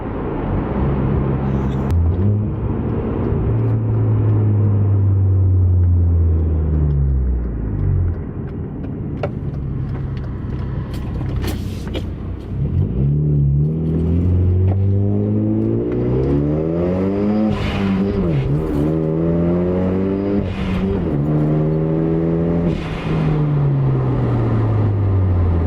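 A car called Genny, fitted with a new intake and blow-off valve, accelerates hard through several gears. The engine note climbs loudly, drops at each shift and rises again in repeated sweeps from up close.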